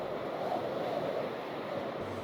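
Ambience of a deep cold ocean in Minecraft: a steady, soft wash of surf and wind noise, constant and fairly even, with a thin high tone running through it.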